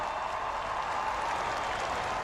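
A crowd outside a Roman hospital cheers and applauds as Pope Francis, 88, appears on a balcony, a dense continuous wash of clapping and voices, steady and moderately distant.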